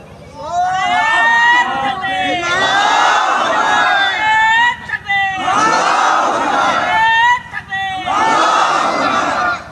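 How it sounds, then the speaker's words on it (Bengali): A large crowd at an Islamic religious sermon roars a takbir in unison, three loud sustained swells of massed voices, each surging and then breaking off briefly before the next call rises. "একজন জোরে সরে তাকবীর দেন"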